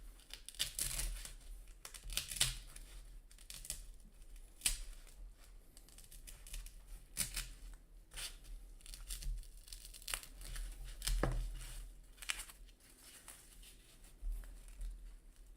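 Material is cut in half and handled nearby, producing quiet, scattered snips, crinkles and tearing rustles with irregular sharp clicks, fairly faint and continuous without talk.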